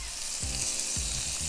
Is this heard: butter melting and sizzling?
yes